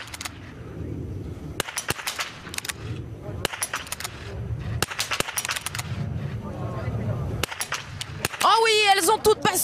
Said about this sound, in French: Il est là le dernier tir.